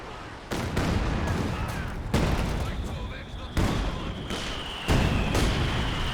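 A Katyusha rocket barrage in Company of Heroes 2 hits in about five heavy salvos, each a loud burst of blasts followed by crackling debris, arriving at a fairly even pace.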